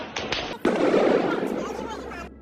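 Gunfire amid street protests in Iran: a couple of sharp cracks, then a loud burst with rumbling tail, fairly close and harsh, ringing briefly before cutting off.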